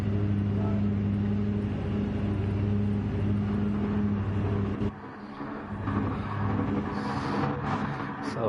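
Race car engines in a sim racing video game during a rolling start on medium tires, a steady droning hum with layered tonal whine that shifts and swells midway, continuous and moderately loud.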